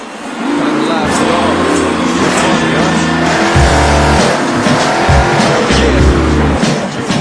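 Monster truck engine roaring loud and steady through a freestyle run at a Monster Jam Steel Titans Sports League event in Anaheim, with deep revving surges and tire noise under a commentator's voice.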